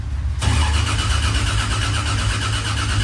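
A Toyota Corolla engine, freshly rebuilt with the crank and cam angle sensors unplugged, cranks over on the starter with a steady, loud, rhythmic churn that kicks in after a brief quiet start and runs without a break.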